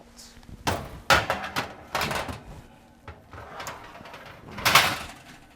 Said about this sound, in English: Could you open up the oven for me, please?